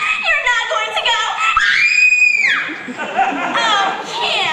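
A girl imitates a screaming fan of teen idol Conrad Birdie, letting out a long, loud, high-pitched shriek with rising pitch, close by, between bursts of excited chatter and giggling from other young voices.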